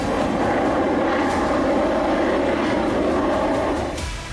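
A Sukhoi 30 MKI fighter jet of the Indian Air Force roars steadily at a distance, a broad, continuous rushing drone holding level for about four seconds before easing slightly.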